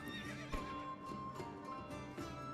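A horse neighs in the medieval strategy game Manor Lords, a steady whinny over a busy game soundscape with faint clip-clop and ambient tones, fairly close and continuous.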